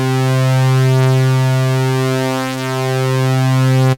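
GS Music E7 analog synthesizer holding a single sustained note with its second oscillator added, a thick buzzy drone rich in harmonics with slight phasing movement, loud and steady until it cuts off abruptly at the end.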